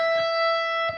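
A sustained electric guitar note on the 12th fret of the high E string rings steady and bright with effects, with faint picking noise at the start and end.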